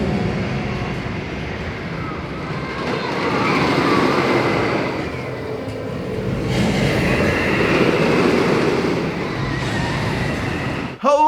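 Wicker Man, a wooden roller coaster at Alton Towers, gives a sustained loud rumble and clatter of the train running over the wooden track, swelling and easing in waves, with a sharp knock at the very end.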